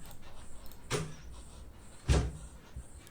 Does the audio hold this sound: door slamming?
yes